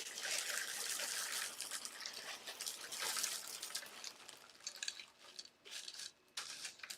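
Clay pebbles pour into a pot holding water, a rattling, trickling rush that is dense at first, then breaks into scattered clicks and splashes as the pouring slows.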